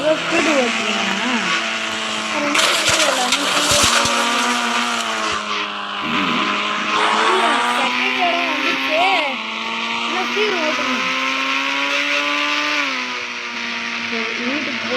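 In the Indian Bike Driving 3D video game, a car engine whines at high revs, rising and falling through gear changes with brief tire squeals, loud and continuous while a person talks over it.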